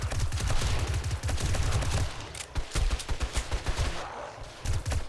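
Rapid automatic weapon fire in 7 Days to Die during a Horde Night, loud and dense bursts for about two seconds, then a brief pause and sparser, choppier shots continuing to the end.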